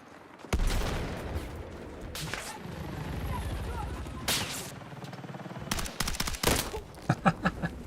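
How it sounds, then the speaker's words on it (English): Rapid automated turret gunfire in the video game Battlefield 6, sharp bursts and single shots cracking loud and close, broken by brief pauses, with someone talking over much of it. "because it's an automated turret, like, literally just one of the shots is just going to RNG and just shoot you in the face"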